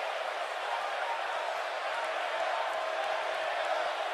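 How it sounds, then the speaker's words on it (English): Steady roar of a video-game arena crowd during a WWE 2K18 women's one-on-one knockout match, a dense continuous wash of cheering holding at an even level throughout with no talk. "And Michael, it sounds to me like this crowd already picked the one who they want to win this match."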